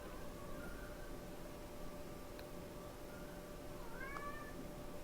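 A cat named Harvey lets out a couple of faint, drawn-out meows over a steady background hiss, the clearest cry coming near the end, with no talking.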